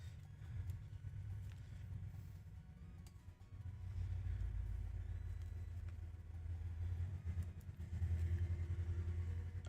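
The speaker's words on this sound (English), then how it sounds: "motorcycle in the back" A motorcycle passes outside, a low engine rumble that swells and holds in the background, muffled through walls and rising in loudness toward the end.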